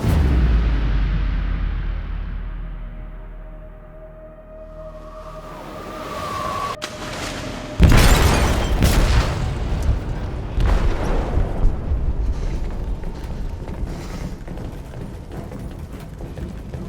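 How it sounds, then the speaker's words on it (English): In the video game Detroit: Become Human, an explosive detonates in a ship's hold: a low rumbling drone builds, then a heavy boom hits partway through, followed by a long roaring, crackling aftermath, loud and enveloping, with no speech. "They detonated an explosive in the hold."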